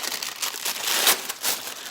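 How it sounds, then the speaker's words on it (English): A paper lunch sack being opened at home, giving a close, continuous crinkling and rustling with a few sharper crackles over about two seconds. "so here's the paper lunch sack. It's gonna be noisy. I'm gonna open it up."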